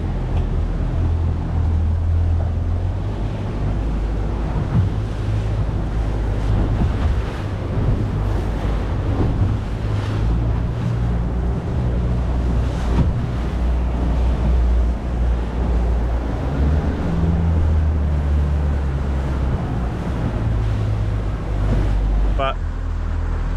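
Rough, sloppy sea swell near a reef, heard from a fishing boat as a continuous loud rumble of waves and wind buffeting the microphone, with faint voices underneath.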